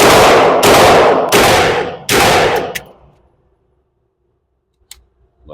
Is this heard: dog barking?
no